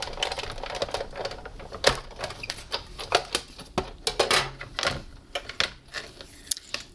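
An embossing folder stacked on a base platform under a cutting plate is cranked through a die-cutting machine, giving a close run of uneven clicks, ratchety knocks and grinding creaks over about seven seconds, with no talk.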